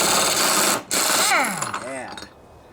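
An air impact drill works on the 22mm top nut of a John Deere LA145 riding lawnmower deck, a loud continuous rattling whir that briefly cuts out, then winds down with falling pitch sweeps before stopping.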